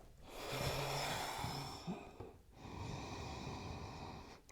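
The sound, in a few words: deep breathing during yoga practice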